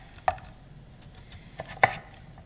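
A knife chops butternut squash into bite-sized pieces on a cutting board: two sharp, close knocks stand apart, with a softer tap between them and quiet scraping.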